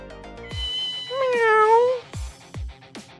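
A black kitten in the video game Ghost Trick meows several times, with one long rising-and-falling meow in the middle and shorter cries around it, close and clear with game music underneath.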